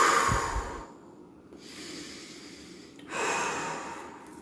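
Slow, deep breaths taken as a calming exercise, with a long audible inhale, a pause and then a hissing exhale, close to the mic and quiet, with no talking.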